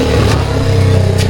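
A loud off-road motorcycle engine revs steadily up close in a forest setting, with a strong continuous low drone throughout.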